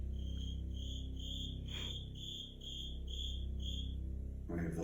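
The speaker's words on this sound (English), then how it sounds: "We have the loudest cricket in the world." A very loud cricket chirps in a boiler room of an old abandoned poor farm, giving steady evenly spaced shrill pulses, close and alone against a low hum.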